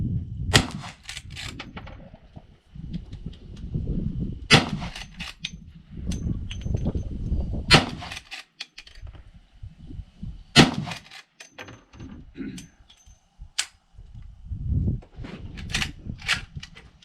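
A Winchester lever-action rifle fires .44 Special rounds outdoors, sharp loud reports spaced a few seconds apart with cycling of the action and handling noise between shots.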